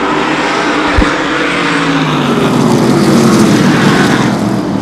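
Race cars roar past at close range during a super short track speedway race at USA Speedway, the field running nose to tail with a dense, continuous loud engine wail and a brief low thump near the start.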